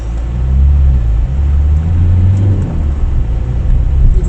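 Steady car traffic on roads in the Paris region, a loud continuous low rumble of passing vehicles with engines droning and swelling, no voices.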